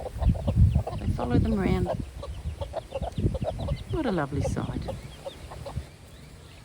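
Chickens cluck and chatter nearby, a hen tending two young chicks, while a person talks over the birds in a quiet outdoor farmyard.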